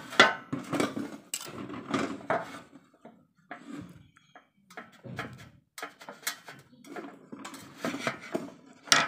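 Rice-flour kemplang dough is cut into thin slices with a knife on a board: a series of short, irregular chopping knocks and scraping clatters, with brief pauses between cuts.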